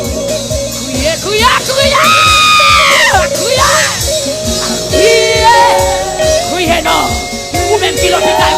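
A congregation shouts and cries out loudly during worship, a dense wash of many overlapping raised voices with yells and whoops over a pulsing rhythmic background, sustained and intense throughout.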